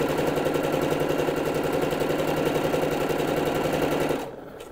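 A sewing machine runs fast and steady while stitching a seam on a kimono blouse, a dense rhythmic whirring chatter held for about four seconds before stopping abruptly.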